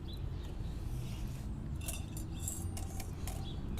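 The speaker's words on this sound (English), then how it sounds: "it's really important to keep these things agitated and moving" Coffee beans rattle and clink steadily as they are kept agitated and moving during solar roasting, a continuous, fairly quiet scratchy jangle with brighter clicks scattered throughout.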